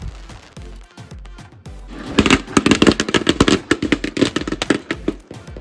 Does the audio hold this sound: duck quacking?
no